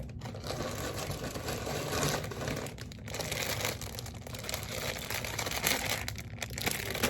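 Plastic packaging around resistance bands crinkles and rustles continuously at close range as the bands are pulled out, with dense scrunching bursts and no speech.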